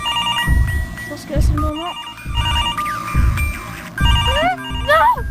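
A telephone rings inside the Mr Hopps Playhouse video game, its electronic trilling repeating in bursts over a low rumbling background while someone talks over it.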